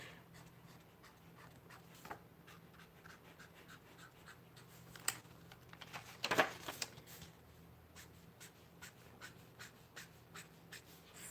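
A pen scratches across journal pages in faint, intermittent strokes, quiet and close, with a louder rustle of paper midway through.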